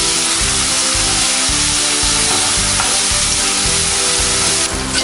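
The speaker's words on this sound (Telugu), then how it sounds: "పచ్చిమిర్చి, వెల్లుల్లి రెబ్బలు, ముందుగా మనం మిక్సీ వేసుకున్న గోంగూర పేస్ట్ వేసి" Gongura paste with green chilies and garlic cloves fries loudly in a pan for gongura fried rice, a dense continuous sizzle with a steady rhythmic low pulsing from stirring throughout.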